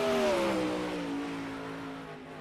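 A sprint car engine at a NARC All-Star Sprint Car Series oval screams past on a qualifying lap, loud at first, then the pitch sinks and fades as it moves away.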